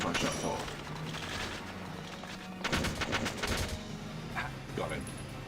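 Gunfire exchanged in the Valkyria Chronicles video game: scattered single shots, then a dense burst of rapid rifle or machine-gun fire midway, with another shot near the end over a low hum of game ambience.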